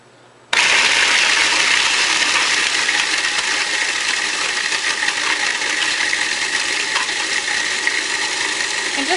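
A food processor whirs into action about half a second in, chopping peaches and other ingredients for a no-bake peach dessert; a loud, steady grinding roar continues unbroken to the end with no talking.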